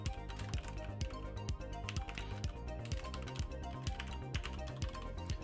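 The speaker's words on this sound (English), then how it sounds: "Sorry for the typing" Rapid clattering keystrokes on a computer keyboard, close and steady with irregular bursts of taps, heard alone without talk.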